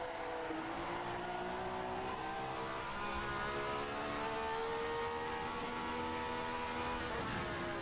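A Ferrari 312F1 race car engine at speed, its pitch rising and then dropping as it shifts gears, a continuous moderately loud whine with no one talking.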